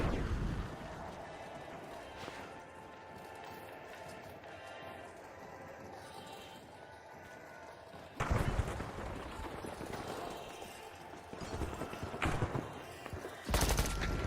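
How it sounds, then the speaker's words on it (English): A thermite weapon fires in the video game The Finals, a dense crackling rush of noise that swells and bursts again in loud surges partway through and near the end. "Firing thermite."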